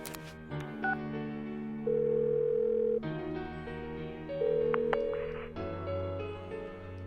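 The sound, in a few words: phone call ringing tone in Persona 4 Golden video game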